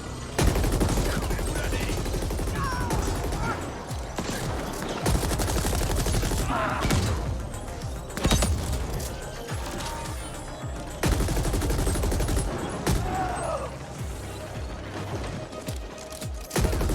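Assault rifle fire in the sci-fi shooter game The Ascent, loud bursts of rapid gunfire repeating across the stretch amid dense game effects and booms.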